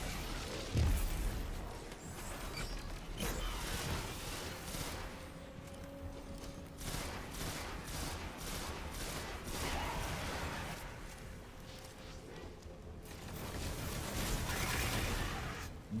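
Rockets from the Exodus firing and blowing up in a video game, a continuous wash of blasts and rumbling bursts through the whole stretch with a few sharper booms standing out.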